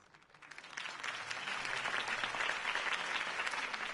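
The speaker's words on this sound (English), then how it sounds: "If only Mr. Wayne, my campaign's largest backer, could have heard that applause" Crowd applause at a political campaign rally in the Batman Telltale video game, swelling from a few claps into steady, dense clapping that holds, heard from a moderate distance without talk.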